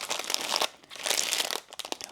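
Packaging crinkles and crumples in bursts during an unboxing of lavender serenade items: loud, close, dry crackling in two long handfuls and then a few shorter rustles, with no voice.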